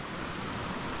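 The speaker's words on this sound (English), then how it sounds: "A nice waterfall cascading down the mountain" A waterfall cascading down a Scottish mountainside near Beinn Fhada and A' Ghlas Bheinn, a steady broad rushing roar that stays even and dense throughout, with faint wind and no talking.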